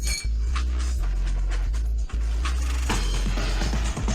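Drinking glasses clink together in a celebratory toast among a group of men, with bright repeated chinks over a heavy, continuous low music bed, no talking.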